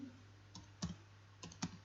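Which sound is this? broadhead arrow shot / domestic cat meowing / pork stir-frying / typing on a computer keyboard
typing on a computer keyboard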